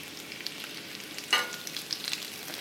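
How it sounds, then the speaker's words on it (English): Pork tenderloin sizzles in a hot skillet with a steady, soft crackle and spitting, plus one sharper burst of sizzle midway, close and alone without talk. "The pork tenderloin will take about 4 to 5 minutes to cook on each side"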